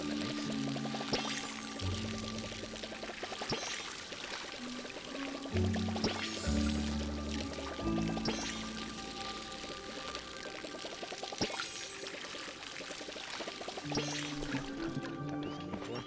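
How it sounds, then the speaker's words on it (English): Crops are watered in the video game Palia with repeated splashing pour sounds in short bursts, set over steady background game music. "We need to water them."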